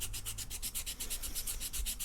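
Hand sanding of a coated art toy, a close, rapid back-and-forth rubbing rasp at an even rhythm, about eight strokes a second, with no voices.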